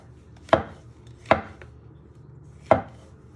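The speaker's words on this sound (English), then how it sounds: "you just want to slice them into pieces like that. You just chop them." Three separate knife chops on a cutting board slicing mushrooms, crisp and close, spaced irregularly with quiet gaps between.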